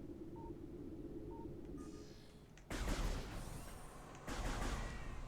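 Burst fire from the arm cannon in Metroid Prime Remastered: two loud, crackling volleys, each a sustained rapid burst, over a steady low game hum with a few faint electronic beeps before them.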